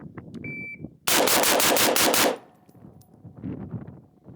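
Rifle shots fire in a fast burst of about eight closely spaced, loud cracks during a tactical shooting drill. A short electronic beep comes just before them, and quieter sounds of the range follow.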